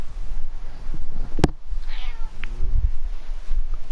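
A house cat gives a short, fairly close meow beside a sharp knock, against a low rumbling background.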